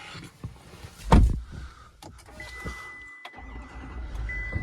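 A 2023 dually heavy-duty pickup truck engine cranks and fires in one brief loud burst, then drops to a quieter, low idle rumble close by.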